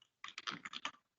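Keys on a computer keyboard tapped in a quick burst of about eight clicks, close and fairly quiet, with no voices over them.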